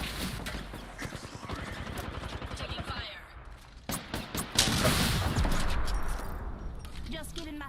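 Video game gunfire, bursts of shots crackling in a firefight with explosions nearby, loud and continuous over game noise, with a sharp burst partway through.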